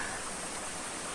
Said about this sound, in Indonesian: Tuh, ada air terjun di sana dan alam semesta yang hijau